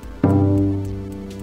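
A cello's open G string sounds as a single bowed tuning note, struck sharply and then held steady and clear as it slowly fades, close and alone.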